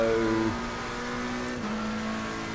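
A McLaren race car engine in Assetto Corsa Competizione, heard from the cockpit as a steady, loud, droning roar whose pitch drops as it brakes and shifts, with a brief change in tone partway through; no talking.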